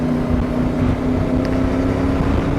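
A CFMoto 450MT motorcycle pulls away, its engine a steady loud drone with a constant tonal hum and wind rushing across the microphone throughout.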